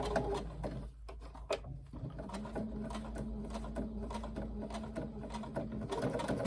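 A Brother Enovis F420 sewing machine stitches through thick handbag layers with a fast, steady mechanical chatter and rhythmic needle clicks, close by, with a few brief pauses and changes in pace.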